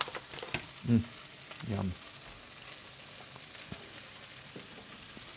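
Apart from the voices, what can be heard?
carnitas frying in a pan with onions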